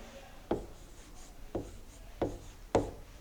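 Chalk or marker writing on a board during a Class 6 math lesson: four short, crisp scratchy strokes at irregular intervals, close and clear over a quiet room with no talking.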